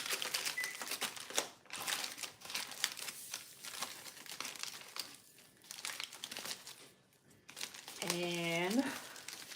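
Foil paper crinkling as it is wrapped around a cabbage for a cabbage boil, a steady close crackle that runs under a speaking voice.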